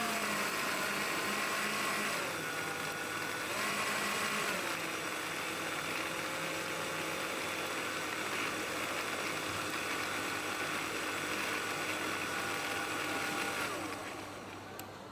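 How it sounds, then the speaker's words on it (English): A kitchen blender runs continuously, making a steady loud whirring drone that shifts slightly in pitch and fades near the end. "Even the blender is like the same."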